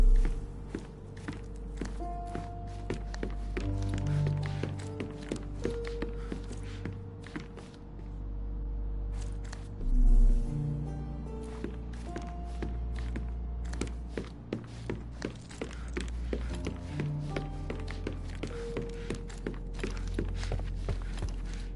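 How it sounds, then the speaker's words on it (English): Footsteps thud and tap in a steady walking rhythm in the Sherlock Holmes video game, heard from upstairs over a quiet droning backdrop, with one heavier thump midway and no talking. "I heard footsteps upstairs a second ago"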